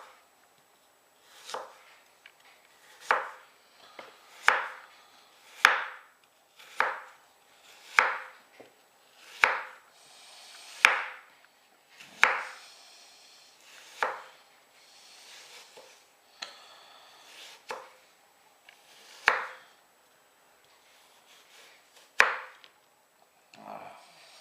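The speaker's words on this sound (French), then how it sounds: "on va couper les pommes en rondelles" A kitchen knife slices through peeled, cored apples on a board for beignets, making steady, crisp chops about one per second with short pauses between them. The cuts sound close and clear, with no talking.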